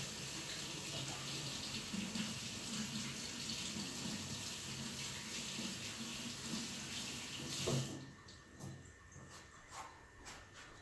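Honeycrisp apples rinsed under a running kitchen tap, a steady close water rush that stops near the eight-second mark, leaving a few faint clicks and handling noises.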